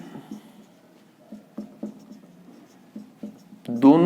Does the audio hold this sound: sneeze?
no